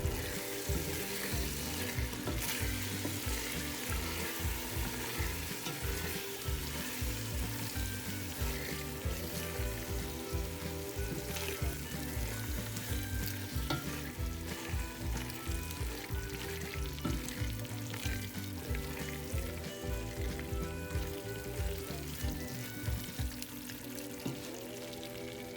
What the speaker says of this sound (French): il est important de la remuer de temps en temps afin qu'elle ne brûle pas et qu'elle ne colle pas au fond de la marmite